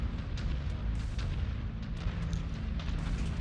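Missiles launching and exploding in a mech combat video game, a dense, continuous barrage of booms and rumbling blasts with short crackling bursts layered on top, loud and without any talk.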